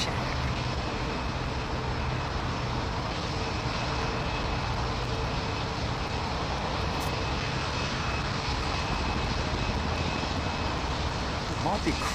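Aircraft engine roar near London Heathrow, a steady loud broadband drone holding for the full stretch with little change, while people talk quietly underneath.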